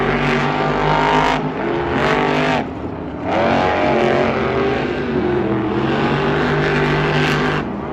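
Gravedigger and Megalodon monster trucks racing at Monster Jam in Anaheim, loud roaring engines with sustained revving and brief throttle dips, close and continuous throughout.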